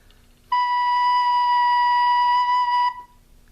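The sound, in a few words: recorder playing the note B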